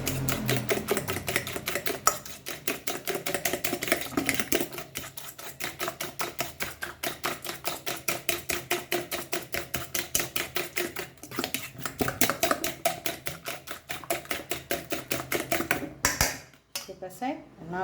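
Shark fish eggs and curry leaves being beaten in a bowl: a fast, steady rhythmic clatter of a utensil against the bowl, close and continuous, with a brief pause near the end.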